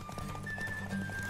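Horse hooves clip-clopping at a steady gallop during a horse race in The Witcher 3, rhythmic and close with a continuous thudding beat and no voices.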